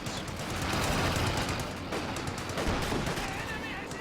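Sustained rattling machine gun fire and scattered shots in a Company of Heroes 2 battle, loud and continuous over a dense wash of combat noise, easing slightly after a brief gap midway.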